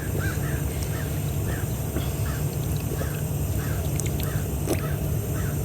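Crows caw outdoors at a middle distance, a repeated run of roughly ten harsh calls at an even pace over a steady background hum.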